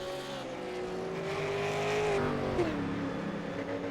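A late-model stock car in a racing video game, raced at a Richmond Raceway league event, fires up and revs, its engine tone rising steadily then dropping, fairly close and continuous with no talk.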